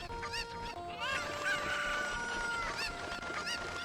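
Chicken clucks and squawks from the video game Zelda: Ocarina of Time, a run of short tonal cries over faint game background sound, with a brief voice in the background.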